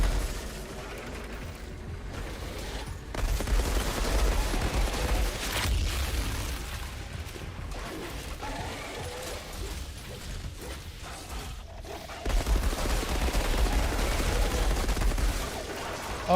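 Video game gunfire erupts in rattling, mechanical bursts, the loudest stretches swelling and easing over a constant dense bed of in-game noise, with no clear voice over it.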